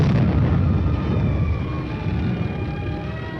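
Artillery fire on enemy positions rolls out as a heavy, broad boom that decays into a long, loud rumble over a few seconds, with no voices present.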